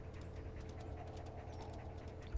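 Dogs in the wolf-life video game WolfQuest pant in quick, steady rhythmic breaths, fairly faint and close, with no talking over them.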